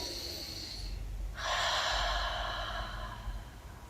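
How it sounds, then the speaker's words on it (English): A person breathing out during a guided meditation: a soft breathy rush followed by a longer, stronger airy exhale that fades gradually, close and alone. "Breathe out with me"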